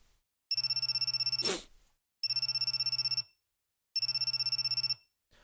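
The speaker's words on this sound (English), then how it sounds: "First thing the next morning, my cell phone suddenly rang." A cell phone rings in the visual novel G-Senjou no Maou: three loud electronic trilling bursts, each about a second long and separated by short silences, with nothing else heard.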